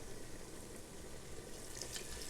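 Turkey broth poured slowly into a butter and flour roux, a faint steady watery hiss and trickle that runs without break and without talk.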